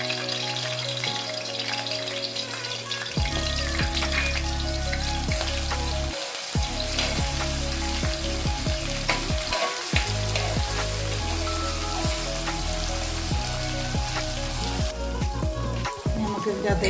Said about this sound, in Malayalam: ഇനി നമുക്ക് കൊത്തി അരിഞ്ഞ് വെച്ചിട്ട് ഇഞ്ചി അതിലേക്ക് ഇട്ട് കൊടുക്കാം.